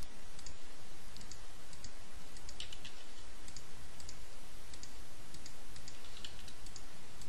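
Rapid, irregular mouse clicks while setting up a Shadowbane interface layout, a run of sharp, close, faint ticks scattered over a soft background hiss, no voices.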